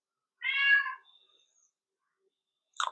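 A cat gives one clear, drawn-out meow close by, then falls silent, and a short second call starts just as the sound ends.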